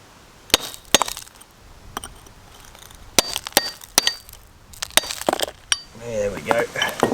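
Gold-bearing ore rock with blue staining struck repeatedly to crack it along its striations, giving sharp, bright impacts in an irregular series of close, loud hits with short pauses between them.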